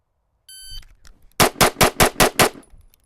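A handgun fired six times in a fast, even cadence during a shooting drill, loud sharp cracks close by, preceded by a brief electronic beep and faint rustling, with no talking.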